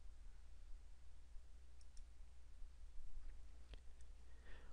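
Computer mouse clicks close a software tab: a few sharp, faint clicks, some in quick pairs, over a quiet hum.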